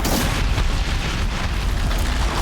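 Bomb blasts in the video game Horizon Zero Dawn, a sustained loud rumbling boom with dense low-end roar filling the whole moment, no pauses and no talking.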